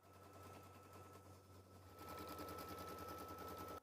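An embroidery machine stitches a placement line for quilt batting on light mesh cutaway stabilizer, a rapid steady mechanical tapping that grows louder partway through and stops abruptly at the end.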